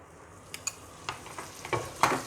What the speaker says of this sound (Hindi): देखिए कैसा सिजल होता है, वाह अमेजिंग।